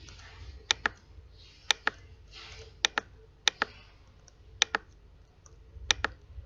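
Brisk keystrokes on a computer keyboard as data is entered into a sales and catering record, with sharp clicks arriving in quick pairs and small clusters at a steady pace in a quiet room.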